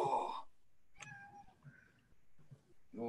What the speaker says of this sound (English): Go away, kitty.